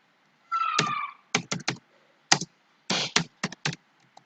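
Keys pressed on a computer keyboard while working in Microsoft Excel: about a dozen sharp, close clicks in small irregular bursts after a short noisy rustle, with silent gaps between groups and no talk.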